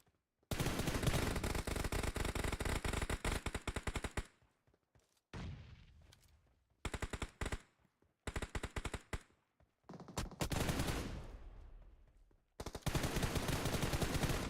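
Gunfire rattles through a battle royale video game tournament match in rapid automatic bursts. Long dense volleys alternate with shorter bursts and brief pauses, and the shooting is loud and close.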